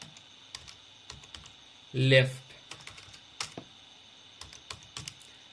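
Keys on a computer keyboard give sparse, quiet taps in a calm room, with one short louder burst in the middle.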